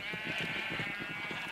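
Repeated bleating from Minecraft sheep in a blocky game world, a steady run of short pulsing calls over a constant bright game-ambience hum.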